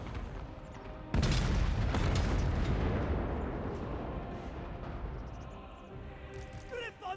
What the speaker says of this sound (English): cannons, can you fire at them for me?